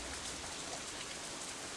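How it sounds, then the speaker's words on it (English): Steady rain falling in the visual novel game Katawa Shoujo, a dense, even hiss of drops with no gaps or talk, moderately loud throughout. "Aw, man. Stupid rain."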